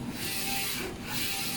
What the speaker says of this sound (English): the Focus Nebula Forge 2F DTF printer.